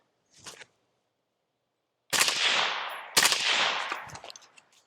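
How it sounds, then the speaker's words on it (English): A rifle fitted with a TISHA 556 suppressor fires two close, loud shots about a second apart, each trailing off in a decaying rumble, after a brief faint click near the start. "let's go ahead and put a few rounds downrange"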